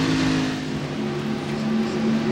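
NASCAR Busch Grand National stock cars, including a Ford and a Chevy, racing at Darlington Raceway in 1996. A steady, loud, droning engine roar holds throughout with no break.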